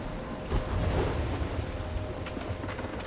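A stormy scene in the video game Life Is Strange, with a steady roar of heavy rain and low rumbling thunder that swells in loudness near the start and then holds as a dense, constant wash.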